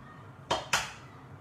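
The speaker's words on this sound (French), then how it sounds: "casse le deuxième œuf" Two sharp, close cracks about a quarter second apart as an egg shell strikes the rim of a bowl in a kitchen during churros batter prep, each snapping bright and brief before fading into quiet room tone.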